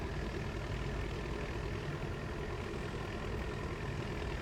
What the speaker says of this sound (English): Pretty impressive for an old little tractor with the manual transmission. Pulling something a little bit heavier than what it's supposed to.